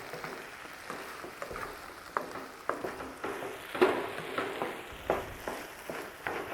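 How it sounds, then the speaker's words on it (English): Paneer pepper fry sizzling in a non-stick pot, a steady frying crackle broken by repeated scraping stir strokes and a few sharper clicks of the spoon, close by and moderately loud. "Okay, getting fried now"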